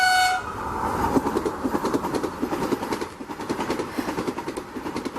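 Vande Bharat Express train pulling into Kanpur Central station on a trial run, with a rhythmic clatter of wheels over rail joints, a brief horn-like tone at the start and steady rolling rumble, fairly close and loud throughout.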